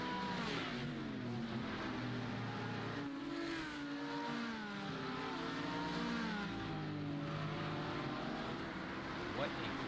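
Race cars in a sim racing game at Watkins Glen, several engines droning and shifting pitch together as they battle closely, steady and loud throughout, with a commentator talking over them.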